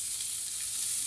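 Green bell pepper frying in a pan for pork liver steak, a steady close bright sizzle with no talk over it.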